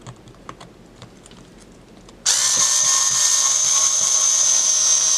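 An electric screwdriver whines steadily and loudly, unscrewing screws from a Blythe doll head, starting abruptly after a couple of seconds of faint clicking and handling.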